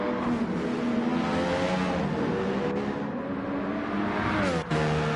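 Formula racing cars on a track, their tyres wearing, roar by with a continuous, loud engine whine that rises and falls in pitch as they accelerate and shift.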